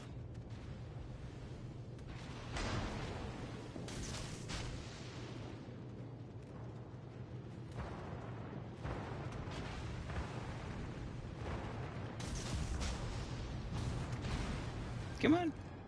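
Naval guns fire and shells burst in World of Warships Legends, scattered booms at moderate distance over a steady engine drone, with a sharp close hit near the end.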